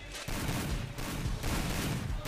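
Rapid gunfire during a Counter-Strike match, dense crackling bursts of shots fired back to back, fairly quiet and continuous through the short span.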